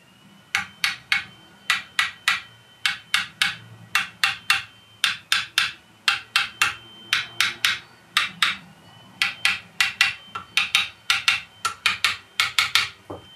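A Harley Benton TE-70 Deluxe electric guitar is picked fret by fret for an even-fret check, giving a long run of short, crisp, evenly spaced plucked notes in small groups, close and clear.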